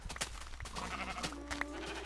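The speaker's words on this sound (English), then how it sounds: "so now over to the sheep farm, the noisy sheeps" Minecraft sheep on a farm bleat several times in a quiet, game-style chorus, with overlapping short baas over soft background ambience.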